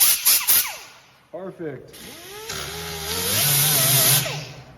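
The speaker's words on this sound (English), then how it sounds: "Ooh, sands nice and well." An air-powered sander spins an abrasive disc against a surface, whirring up in a rising, sustained buzz for the last few seconds after a few short bursts, with a brief spoken word early on.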